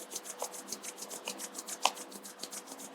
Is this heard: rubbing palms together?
yes